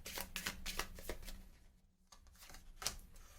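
Playing cards for the Marvel Champions card game are dealt onto a table in a quick run of soft slaps and flicks, followed by a brief pause and a few more card sounds, faint and close.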